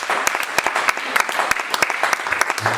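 A church congregation applauding, dense, lively clapping from many hands filling the room with sharp, overlapping claps and a brief low voice near the end.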